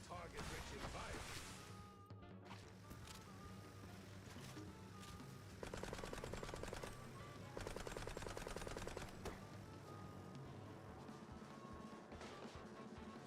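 Rapid gunfire from a shooting scene in the video game Mouse: P.I. For Hire, sounding as dense bursts of shots over a game music bed, with talk and other game effects throughout.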